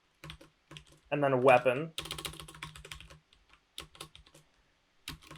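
Typing on a computer keyboard to enter search terms, a few scattered clicks and short bursts of keystrokes heard close up between and beneath a man's speech and a brief tonal sound.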